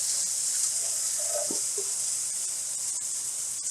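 Peppers and other vegetables sizzle steadily in a pan for a healthy chicken poblano quesadilla, a constant bright hiss with a few faint clinks as they're stirred.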